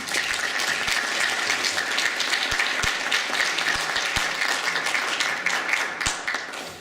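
An audience claps steadily, dense and sustained applause welcoming a keynote speaker at an Orthodox Christian conference, with a few sharper individual claps standing out before it tapers at the end.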